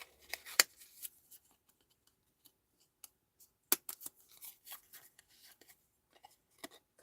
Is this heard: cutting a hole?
yes